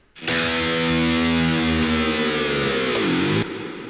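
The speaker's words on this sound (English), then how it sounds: "there's one that's just kind of an open E note with some whammy bar going on." An open E note on a distorted electric guitar rings steadily, then a whammy bar dips and bends the pitch downward near the end before it cuts off.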